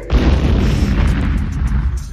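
A deep, rumbling explosion bursts in and rolls on as a sustained roar, loud and close, with no voices.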